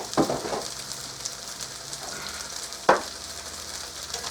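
Hash browns frying in a pan on low heat, a steady soft sizzle with a couple of sharper crackles and scrapes, close and alone.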